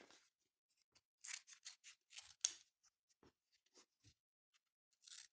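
Scissors snip material being prepared for a pom-pom in a run of crisp, close cuts, quick bursts bunched together, then sparser, lighter snips in a quiet room with no talking.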